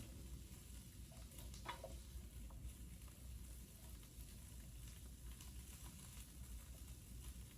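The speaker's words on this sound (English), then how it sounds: "So I'm going to cook my onions for about 2 minutes." Onions cook in a pan with a steady, faint sizzle and a few scattered pops and stirring scrapes throughout, no voices.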